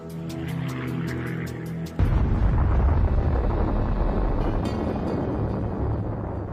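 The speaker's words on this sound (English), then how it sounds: "Nearby in POW Camp 17, Lester Tenney sees the explosion" An atomic bomb explodes over Nagasaki: after a few seconds of tonal music, a sudden loud, deep roaring blast bursts in and rolls on as a sustained, heavy rumble to the end.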